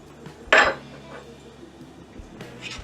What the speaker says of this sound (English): I want to go ahead and put my lid on there